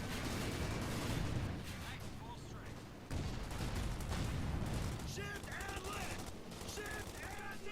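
A World War II video game tank battle between a Panther and a Pershing, with dense rumbling cannon and gunfire explosions throughout, under a caster's commentary voice.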